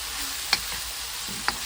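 Vegetables and tofu fry in a pan for vegan noodles, giving a steady soft sizzle with two brief clinks of a utensil against the pan.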